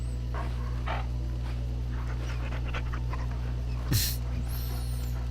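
A dog pants softly in short breathy puffs while being petted in Dragon Age: Origins, over a steady low hum, with one brighter brief noise partway through.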